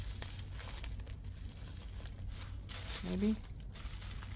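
Soft crinkling and rustling as the back of a small journal made from recycled trash is folded in, low and close, with a brief spoken word partway through.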